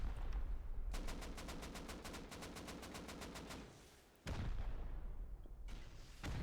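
Rapid bursts of rocket and gunfire explosions pound against base walls in the game Rust during a 3v3 tournament raid, a fast regular volley of sharp blasts followed by a heavy boom and more impacts.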